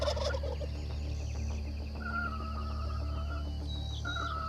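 Wild turkey gobbling in the field, a few rattling gobble bursts at moderate distance over a steady low outdoor background hum.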